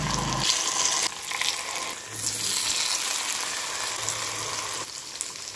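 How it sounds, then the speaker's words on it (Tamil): Appam batter sizzling as it hits hot ghee and oil in the wells of an appam pan, a loud steady frying hiss with a few brief shifts. "இப்போ இந்த மாவை அப்பக்குழியில் விட்டுக்கலாம்."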